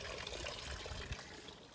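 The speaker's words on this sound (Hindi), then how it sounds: "ये नदी है लुजार, ये लुजार नदी है।" The Luzhar river in a quiet Russian village flows with a soft, steady rushing and trickling, faint and continuous, with no voices.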